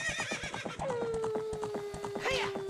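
A horse in The Legend of Zelda: Ocarina of Time gives a long whinny over a rapid, steady clip-clop of hooves, with a second, shorter neigh near the end. A voice talks faintly in the background.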